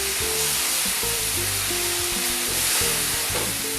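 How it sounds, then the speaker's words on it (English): Pan-roasted spices are mixed into a loudly sizzling dish in a pan, a steady close hiss of frying with stirring, while music plays underneath. "in goes my pan roasted spices. Give it a good mix again."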